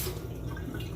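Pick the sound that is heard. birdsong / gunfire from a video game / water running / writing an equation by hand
water running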